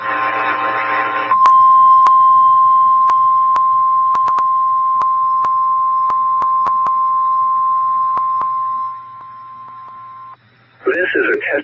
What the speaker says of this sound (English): This is a test of NOAA Weather Radio's warning alarm device